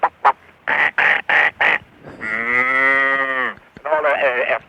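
A man vocally imitates farm animals: a series of short bleating bursts, then one long, drawn-out cow moo, followed by a wavering bleat, all close and clear.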